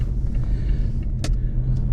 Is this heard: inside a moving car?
yes